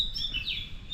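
A small bird chirps outside around 4:30 in the morning, a few thin high tweets in quick succession over a quiet background.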